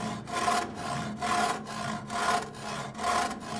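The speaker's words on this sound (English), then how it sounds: "put the saw in the groove, and now I can start going a little bit forward, a little bit back, and you'll hear it starting to cut" A hand saw cuts into wood for a beginner's wooden sword, with steady back-and-forth strokes under light pressure. The rasping cut swells and fades in an even rhythm, close and alone.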